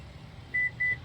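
A Toyota Fortuner Legender's seat memory function gives two short, clear electronic beeps in quick succession over a quiet cabin hum.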